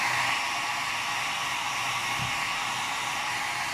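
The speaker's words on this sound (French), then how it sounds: "Maintenant, je vais sécher parce que ça ne bougera plus les couleurs." A hair dryer drying paint on a bubble-wrap card background, running at a steady loud, close whoosh without pause, no voices.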